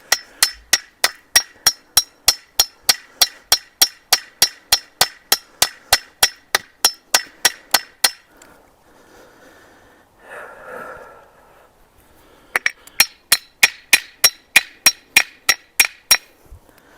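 Sharp metallic clangs ring out in a quick, steady series as a steel T-post is driven into the ground for a tomato trellis. A pause follows with a breathy snort, then another burst of close, loud strikes.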